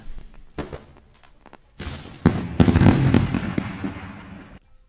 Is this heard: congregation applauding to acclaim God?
no